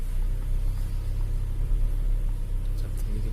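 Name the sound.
Toyota Innova engine while shifting gear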